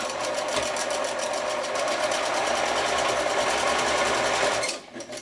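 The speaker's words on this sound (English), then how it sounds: "now you're sewing a straight stitch right along this edge" A sewing machine runs steadily while stitching a straight line along a fabric edge on sleep shorts, a fast continuous whir that holds loud and close for almost five seconds before stopping abruptly.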